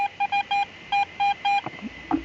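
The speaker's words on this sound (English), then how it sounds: "Okay, solid 84 high tone." Garrett AT Pro metal detector sounding a high tone on a solid target at a WW2 army camp site, a series of clear electronic beeps, short then longer, alone with some handling noise at the end.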